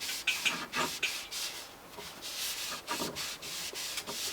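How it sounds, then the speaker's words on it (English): Ballistol oil rubbed by hand into a wooden gun stock, a close, steady back-and-forth scrubbing with soft rhythmic strokes and brief pauses, no talking. "And we take some Ballistol, like you see there, and rub it in."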